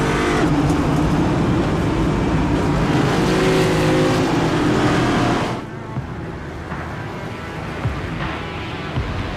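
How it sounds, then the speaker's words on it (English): A 25-car field of next-gen Cup Series race cars at Daytona roaring loudly as they accelerate together, a dense sustained engine blare that drops suddenly to a quieter rumble partway through. "Pace truck rolls away with this 25-car field, the next-gen Cup Series cars."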